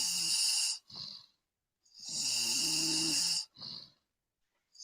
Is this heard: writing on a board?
no